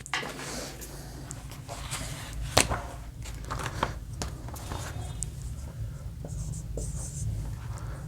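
Marker or chalk scratching steadily across a board as a teacher writes out letter-series questions in a reasoning class, with quick strokes and taps, close and fairly quiet, and no talking.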